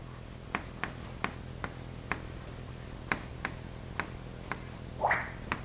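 A pen writing by hand on paper during a class 8 science lesson, with steady scratching and regular sharp taps of the pen tip roughly every half second, close and moderately loud, and a brief voice near the end.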